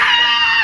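A human voice imitating a goat's scream, a loud, strained, wavering cry held briefly before sliding downward at the end, close and alone.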